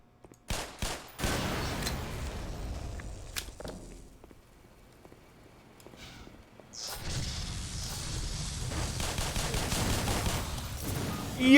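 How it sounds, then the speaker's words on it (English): Gunfire from the video game Black Mesa: scattered sharp shots early on, a quieter lull, then a dense, sustained burst of rapid firing that carries loudly through the final seconds. "Because I know the shooting is loud"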